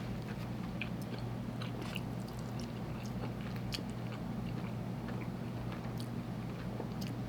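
Someone bites into and chews a brisket taco close to the mic: soft, irregular crunching and wet mastication over a low steady background hum, with no talking.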